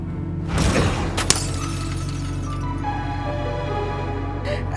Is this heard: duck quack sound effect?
no